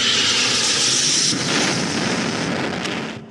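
A loud, steady roar of a passing airplane fills about three seconds as a stage sound effect in an Egyptian theater comedy sketch, where a plane crashes into a tower.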